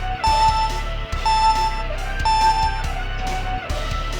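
Repeating alarm in GoldenEye 007, loud steady tones with a beeping pattern that recurs roughly every second over a constant low drone, alone without talk.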